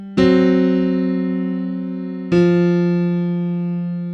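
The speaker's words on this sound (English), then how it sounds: "Here comes the static riff down low." Blues piano static riff played down low: two deep, full piano chords struck a couple of seconds apart, each sustaining and slowly decaying, played slowly and alone.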